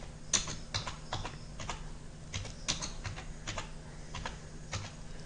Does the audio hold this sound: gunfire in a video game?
no